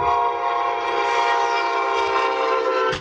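A Brightline train at a railroad crossing in Rockledge, Florida, sounding a loud, sustained multi-tone horn that holds for the full span, close and dominant over a faint rumble of the train.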